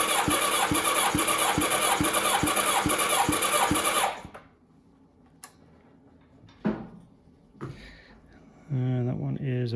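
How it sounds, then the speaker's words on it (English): A 1990 Kawasaki ZXR 750 engine cranks over on a booster pack in a steady rapid chugging rhythm, then stops. Quieter clicks and shuffles follow before a brief buzzing resumes. "I'm hoping I've got enough juice in this boots pack that it's going to continue to allow me cranking it over."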